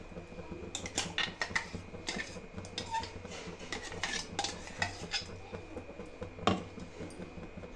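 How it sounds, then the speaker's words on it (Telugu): A spoon clinks and scrapes steadily against a pot as almond paste is stirred into boiled milk, with repeated sharp metallic taps and one louder knock near the end. "ఇప్పుడు ఇందులోకి ఈ బాదం పేస్ట్ని యాడ్ చేసుకోవాలి."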